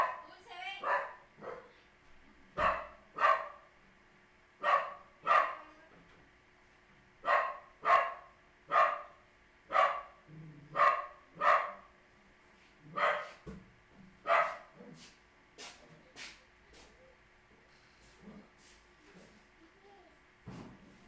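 A dog barks repeatedly in sharp, loud bursts, roughly one or two per second for about fifteen seconds, at close range indoors, with a person speaking at times beneath and between the barks.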